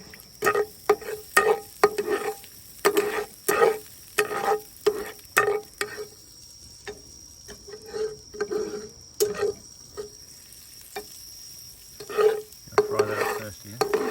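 Garlic fries in a little oil in a pan at a campsite, a spatula stirring and scraping in rapid, uneven strokes over a faint sizzle, with soft bursts of quiet talk between the strokes.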